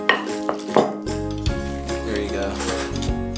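Cornbread stuffing scooped into a cast iron pan, with soft scraping and clinking of a utensil against the pan over a low steady hum, while a person speaks briefly.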